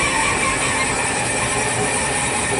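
A machine's rotary table turns an MGB engine block during deck work, giving a steady, loud, broadband mechanical whir that holds unchanged throughout with no voices.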